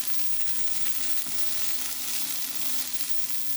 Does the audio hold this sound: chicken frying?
yes